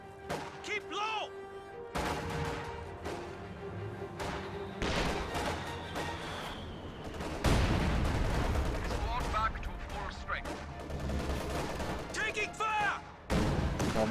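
Gunfire and T-70 tank shots in a World War II video game battle near a hedge, with repeated gunshot bursts and heavy booms, loud and dense throughout, under in-game shouted voices.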